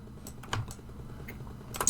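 Computer keyboard keys are pressed in a quick, irregular series of close, crisp clicks, with a couple of louder taps near the end and no talking.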